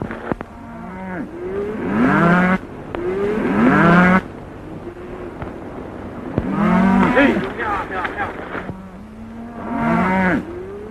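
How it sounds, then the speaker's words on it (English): Several cattle moo repeatedly, long low calls overlapping one another, with a rumble of movement in the background. "Nice bunch of cattle you're sending to market, Mr. Dawson."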